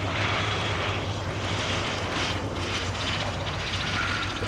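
Gloster Gladiator Mk.II biplane coming in to land at an airshow, its piston engine giving a steady, loud drone with a low throbbing hum, continuous and fairly close throughout.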